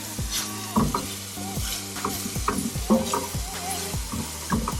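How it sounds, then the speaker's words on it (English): Cinnamon-coated apple pieces are stirred through hot oil in a pan, a steady sizzle of frying broken by repeated scraping strokes of a utensil, close and fairly loud with no talking. "Make sure it all mixes together so the cinnamon really sticks to the apple and kind of caramelizes against the oil and the heat."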